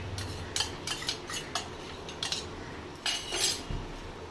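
A utensil scrapes and clinks against a bowl or pan while lote fish and potato are mixed with green chili and coriander for Bengali fish fingers, bursts of close clatter separated by short pauses, with no voices.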